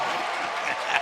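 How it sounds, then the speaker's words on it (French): A church audience applauding the pastor's wife, a dense wash of clapping from a crowd, steady and moderately loud over one second. "Non, acclamez un peu mon épouse"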